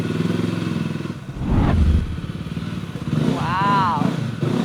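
A motorcycle rides onto a television studio stage, its engine rumbling and revving up loudly over a few seconds, with talk and crowd noise around it.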